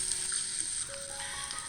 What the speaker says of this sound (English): once you have added the meat, you stir fry for 2 minutes